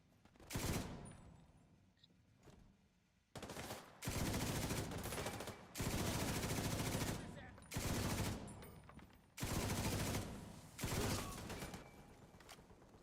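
Machine gun fire in The Division 2 comes in long, loud sustained bursts separated by short pauses, repeating about five times over the stretch.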